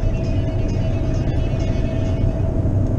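Steady low engine rumble and road noise from inside a moving car, loud and continuous, with faint ticking sounds over the constant drone and no speech.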